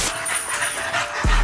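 A dog pants close by in quick, breathy rhythm, with a whimper and a thump near the end.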